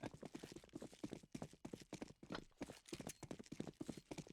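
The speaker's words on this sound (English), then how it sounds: "Plenty of footsteps, all from the same direction." Many rapid footsteps approaching from one direction on the Cache map in a Counter-Strike match, brisk overlapping steps in a quick, clopping rhythm, moderately close and without voices.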